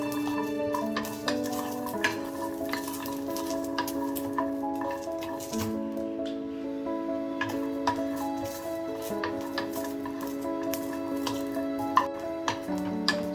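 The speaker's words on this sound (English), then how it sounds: "So roast it until you see charred marks on the garlic" Garlic, fresh turmeric, ginger and coconut roast in a pan over a flame, giving a constant soft sizzle with scattered stirring clicks and scraping ticks throughout, under background music tones and with no talk.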